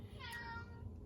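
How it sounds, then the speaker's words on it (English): Pet cat giving a single short, faint meow in a quiet room, brief and slightly distant. "oh, here comes the kitty"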